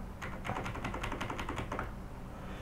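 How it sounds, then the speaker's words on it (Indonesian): A burst of rapid keyboard clicks on a computer, about a dozen quick presses over two seconds, close and fairly loud, then a brief quiet tail. "Kalian bisa buka terminal dengan cara Ctrl Alt di keyboard seperti ini."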